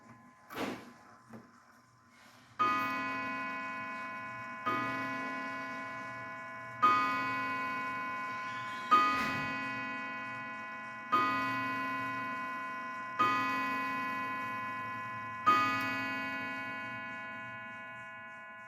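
An auction-haul clock chimes the hour with seven evenly spaced resonant strikes, each ringing and fading into the next, close by with no voices, after a few soft knocks at the start.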